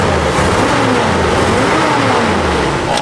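A Jeep CJ5's engine idles and revs steadily nearby, a continuous low rumble with a slight rise in pitch toward the end and no voices over it.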